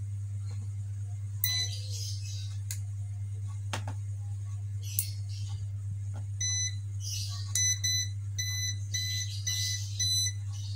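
An AC voltage tester pen detector beeps in short repeated electronic bursts, loud and close over a steady low electrical hum, with scattered handling clicks.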